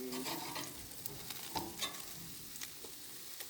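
A meat patty frying in a pan, with a steady soft sizzle and occasional stirring or scraping clicks close by, fairly quiet and with no voices.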